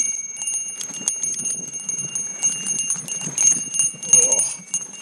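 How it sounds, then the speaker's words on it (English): A timber bell on a mountain bike jingles steadily on a rocky trail at Black Mountain in San Diego. The bright ringing continues throughout, mixed with rattling trail noise and bumps from the ride. "We're all using the timber bell so we can turn it on and off"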